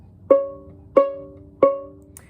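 A violin or viola sounds C sharp on the A string, two fingers down, as three separate plucked notes at an even pace, each a sharp attack that rings and fades, close and clear with no talking.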